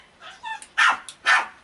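A dog barks sharply several times nearby, short yips and a couple of louder barks in quick succession, with no talking over them.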